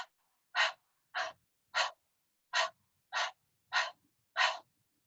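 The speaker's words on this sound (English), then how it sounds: "Couple of those quick breaths here if you like," Seven short, sharp breaths in a steady rhythm, each a separate puff of air, close and clear against silence during seated chair yoga breath work.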